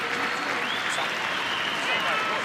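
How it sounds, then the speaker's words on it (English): A stadium crowd at Parramatta Stadium applauds injured rugby league player Jarryd Hayne as he is carried off, a dense, sustained wash of clapping and crowd noise at a distance, steady for the whole stretch. "Here they are applauding Jared Hayne as he is taken by Medicab from Parramatta Stadium."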